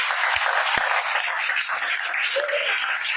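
A church congregation breaks into loud, sustained applause in acclaim of Jesus, dense clapping from many hands filling the room throughout, with a faint voice rising briefly within it.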